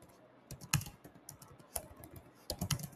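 Keys clatter on a computer keyboard as text is typed into a chatbot builder, irregular clusters of close, crisp clicks with brief pauses between bursts, no voice over them.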